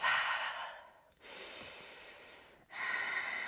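Three slow, audible breaths during a yoga core workout, each a long airy inhale or exhale separated by brief pauses, close and fairly loud with no talking.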